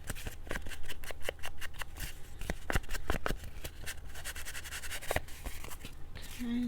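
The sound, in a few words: cutting paper book pages with a cutter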